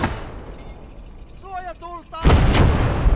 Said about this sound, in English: You get a 76mm gun in a concrete emplacement.